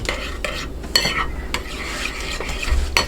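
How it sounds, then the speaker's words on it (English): Red palm oil stirred into a shea butter mixture with a utensil, with soft repeated scraping and clicking strokes against the container, close and fairly quiet with no talking. "So I'm gonna be mixing it right now."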